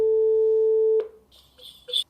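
A UniFi G3 Touch Pro sounds a steady electronic call tone for about a second. It then cuts off abruptly, leaving faint clicks and light rustling.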